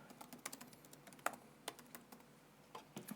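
Someone types on a computer keyboard in quiet, uneven clicks and taps, with occasional sharper keystrokes over a faint background hum.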